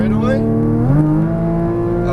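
A Porsche Cayman GTS on a Las Vegas race track engine note pulls steadily upward as it accelerates, a loud, close, continuous tone rising in pitch, while an instructor talks over it.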